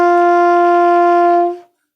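A single sustained alto saxophone note D, steady and clear for about a second and a half before it stops cleanly.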